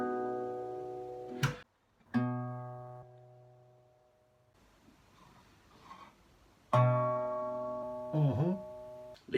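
Acoustic guitar notes plucked on the fifth string at the second fret: three separate clear plucks, each ringing out and slowly decaying, with quiet gaps between them.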